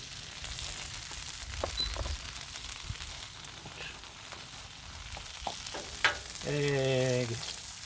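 Eggs frying on a Blackstone griddle, steady sizzle throughout with a few faint clinks and a brief tonal whistle near the end, close and moderately loud.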